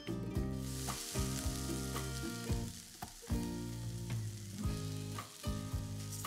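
Grated fresh coconut stuffing with fried cashew and almond pieces sizzles and roasts in ghee over a low flame, a steady frying hiss broken by repeated scraping stirs of the pan, close up with no voices.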